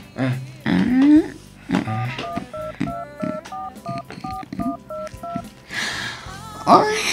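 Cellphone keypad tones punched in one after another as a phone number is entered, a steady run of short beeps, with people talking before and after.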